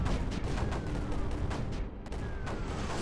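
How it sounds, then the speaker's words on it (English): Bombers drop a dense barrage in the strategy game Creeper World 4, a continuous rumble of overlapping explosions with repeated heavy booms and a brief dip before the bombardment resumes. "Let's do some more bombing."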